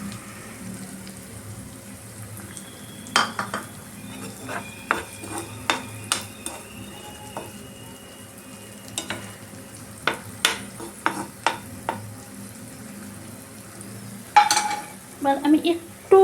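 Beaten eggs poured over eggplant in a hot pan: a soft, steady background sizzle with a series of sharp clinks and scraping taps from a utensil against the pan, close and irregular, with a few louder knocks near the end.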